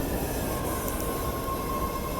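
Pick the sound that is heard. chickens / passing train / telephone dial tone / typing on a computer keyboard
passing train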